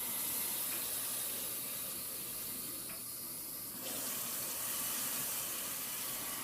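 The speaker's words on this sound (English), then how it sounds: "I'm going to rinse at low pressure for 5 minutes, as warm as she can take it" Warm tap water runs steadily at low pressure, rinsing a woman's hair through a perm, a soft continuous broadband hiss with a slight shift partway through, close by and with no talking.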